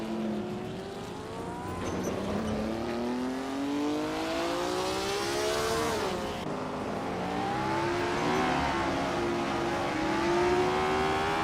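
A 1965 Cooper T77 race car engine screams in a racing video game on the Charade track, its revs climbing steadily, dipping at a gear change midway, then climbing again in a continuous close roar.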